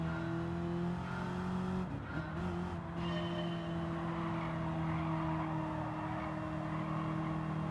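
Dodge Hellcat engine in Gran Turismo 7 on the Nürburgring, a steady droning engine tone that briefly dips and shifts around the two-second mark, then settles back into a continuous hum.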